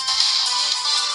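A ringtone plays through the small speaker of an Oukitel U7 Plus phone, thin and bright with no low end, sustained steadily for about a second.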